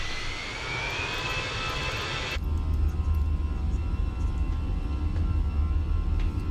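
Twin jet engines of an Airbus A320 airliner in Microsoft Flight Simulator 2020 spooling up on the runway, a rising whine giving way to a loud, steady roar.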